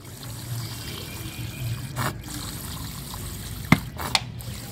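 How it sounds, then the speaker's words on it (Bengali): Water trickles gently and steadily into a potted cutting of a Gondhoraj lemon, a soft, continuous pour with a couple of faint clinks, close by and without speech. "দেখেন আমি এখনও জল দিয়ে যাচ্ছি।"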